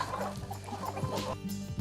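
Several chickens cluck on a small farm with banana trees and native trees, giving a close, busy run of overlapping clucks and short calls.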